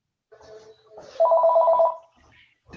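A telephone rings in a room during a Torah study session, one electronic trilling burst between short bits of background voice and noise, then quiet.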